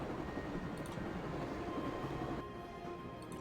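Continuous rumbling train ambience aboard a moving train in Broken Sword: Shadow of the Templars, a steady dense roar of wheels and carriage noise with no voices.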